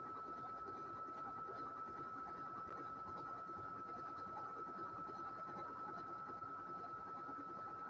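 An embroidery machine stitches out a quilt block with a steady, even mechanical whirr and a constant high hum, quiet and unbroken throughout.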